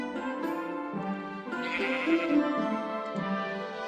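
A Minecraft sheep bleats in a single close, wavering cry lasting a few seconds, clear and alone without talk.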